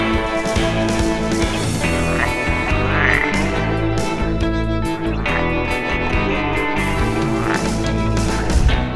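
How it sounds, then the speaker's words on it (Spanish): A dense chorus of frogs croaking continuously, layered rhythmic calls overlapping loudly with no pause and no voices. "acompañada de un animal muy peculiar, ranas o anfibios"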